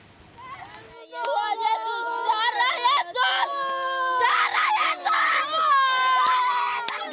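Several women scream and wail hysterically as armed police and Brimob officers force them out during an eviction, loud overlapping cries close to an amateur camera, with sharp knocks and clatter mixed in.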